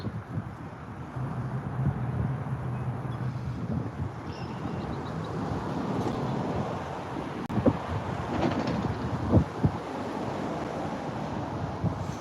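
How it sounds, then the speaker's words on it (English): Wind gusts across an outdoor carp fishing pond, a steady broadband rush with some louder buffeting bursts near the microphone, no voices heard. "with the wind blowing in my direction"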